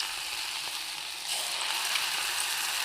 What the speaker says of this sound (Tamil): எண்ணெய் காய்ஞ்சதும் ஒன்று ஒன்றா போட்டு எடுத்துக்கலாம்.